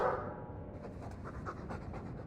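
A Mabari war dog in the video game Dragon Age 2 pants rapidly and rhythmically, close and fairly quiet, with no voices over it.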